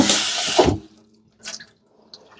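Hot coffee drink pouring into a cup as a steady close splash, which cuts off and is followed by a few faint drips and light clinks.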